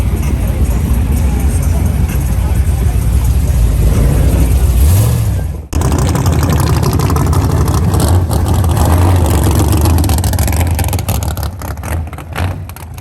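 A car revving and driving past at a Battle of the Boxes car show, loud and close, with a steady roaring engine drone, a brief cutout midway, then a long sustained rumble fading slightly at the end.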